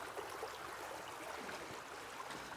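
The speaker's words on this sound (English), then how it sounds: "If I open this up here, we can get a little bit more faster running water here." Water running fast through a sluice box set in a stream, a steady, dense rushing and splashing that holds at even loudness throughout, with no voices.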